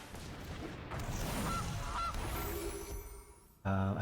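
Two short goose honks sound in the Magic Arena card game as the Gilded Goose card is played, followed by a loud, tonal game effect burst at the end.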